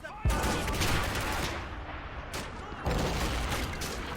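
Browning Automatic Rifle gunfire in the Men of War: Assault Squad 2 battle game, sustained loud bursts of automatic fire mixed with other shooting and explosions, dense and continuous with brief dips.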